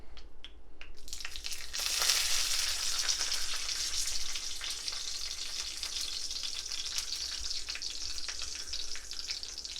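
Garden sage leaves sizzle in smoking-hot oil. A loud, bright crackle flares up as they hit the pan, then settles into a steady frying hiss with small pops and no voices.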